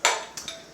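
A mason jar of fresh beet juice is closed, giving one sharp glass-and-metal clink followed by two lighter taps, close and clear in a quiet kitchen.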